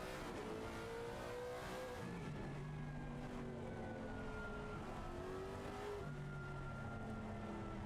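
Onboard a race car lapping the Hungaroring in a sim racing league, the engine droning and rising and falling in pitch through gear changes, steady and continuous throughout.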